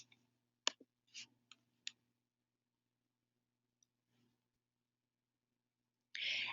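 A computer mouse clicks on a link: a quick cluster of faint, sharp clicks, then a pause and a stray tick, quiet and close, with a brief noise at the end.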